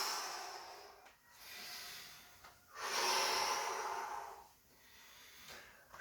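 A slow, controlled breath during a gentle mobility exercise, with long soft airy exhalations that rise and fade in close, quiet waves separated by brief pauses.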